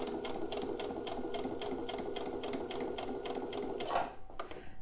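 A sewing machine stitches fabric along a 1 cm seam, a steady, rapid run of close stitching that holds evenly for about four seconds before cutting off with a brief final clatter.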